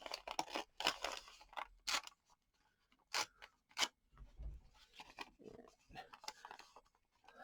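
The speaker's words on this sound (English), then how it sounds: "I think I'll go ahead and tear that off." Paper scraps being torn by hand for a craft page, several close rasping rips in uneven bursts separated by short pauses, fairly quiet with no talking.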